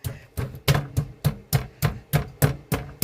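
An old-fashioned meat beater pounding steaks, ten evenly spaced heavy thuds in a steady rhythm, close and loud with no talk.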